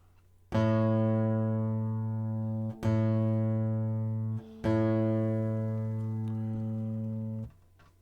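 Three sustained tones all on the note A, each with a sharp attack and slow fade, differing in timbre as different instruments play one after another with brief breaks.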